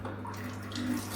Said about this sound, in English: We got the little bidet action.